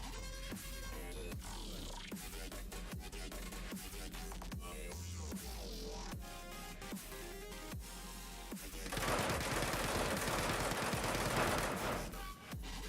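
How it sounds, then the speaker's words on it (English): Gunfire in the space game Star Citizen: rapid bursts of shots sound over a steady hum and background music, building to a loud, dense volley of fire in the final seconds. "Somebody's firing at me."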